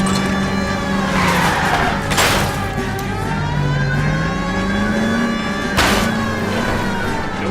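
Car engine roaring during a police chase in L.A. Noire, loud and sustained with shifting revs, a wailing siren tone rising and falling over it and bursts of screeching noise, no talk.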